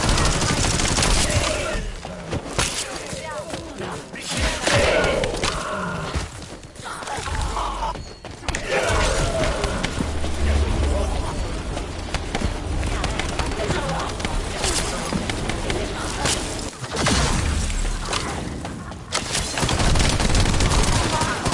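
Sustained loud gunfire in the looter-shooter The First Descendant, dense automatic bursts and volleys going almost nonstop with a few brief lulls, while a player talks over it.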